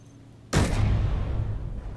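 A Mammoth Tank fires its two main barrels in one sudden, heavy boom that breaks a quiet background and then rolls into a long, rumbling decay.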